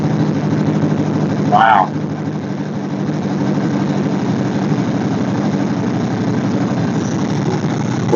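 A carbureted engine fitted with a Chinese copy of a Holley 2-barrel carburetor runs steadily right after starting, a loud, even drone that continues throughout, with one short exclamation from a person early on.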